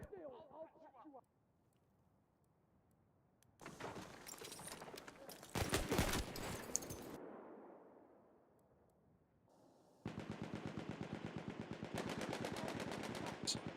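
Rapid automatic gunfire rattles through an Incursions 5v5 esports video game match, coming in loud sustained bursts separated by quieter stretches, with commentators talking over the action.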